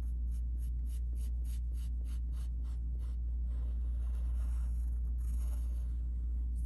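Pencil drawing on paper, a quick run of about a dozen rhythmic scratchy strokes followed by softer, irregular scribbling over a low steady background hum.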